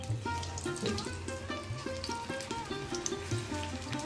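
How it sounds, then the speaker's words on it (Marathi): Fenugreek-leaf bhaji batter sizzling in hot oil in a kadhai, a steady crackling fry with rhythmic bubbling pops, close and moderately loud with no voices. "कढईमध्ये मावतील तितके आपण या भजीचं मिश्रण थोडं करून आपण ऍड करायचं"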